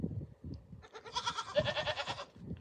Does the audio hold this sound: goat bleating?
yes